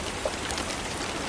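Steady rain falls in the dark of night on a country road beside a swollen stream near Blackstone Bridge, a soft continuous patter spread evenly with no pauses and no voices.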